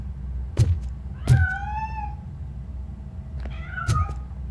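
Three separate meows from a cat in the game RoboCop: Rogue City, each a short rising-and-falling cry with a thud at its start, heard close and alone over a low steady background hum.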